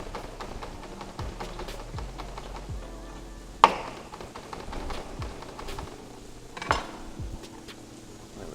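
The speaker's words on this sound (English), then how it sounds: "fresh rosemary, but we're going to chop it fine" Knife chopping fresh rosemary finely on a cutting board in a home kitchen: rapid, light repeated taps in a steady rhythm, close by, broken by two sharper knocks, with no talking.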